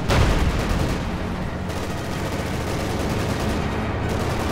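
A field gun fires in Company of Heroes 2 with a heavy blast at the start. Dense battle noise of gunfire and explosions follows and stays loud and steady to the end.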